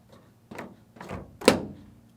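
A Ford F-150's broken fuel door is handled, giving three or four separate hollow thunks and clacks about half a second apart, the last one the loudest and sharpest, close up with no talking.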